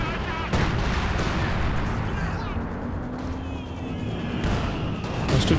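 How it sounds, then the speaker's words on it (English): Artillery barrage from the bunker-busting strike in Company of Heroes 2, a dense rumble of booming shell impacts and gunfire rolling continuously for several seconds at steady loudness. "is that the bunker busting barrage coming in here?"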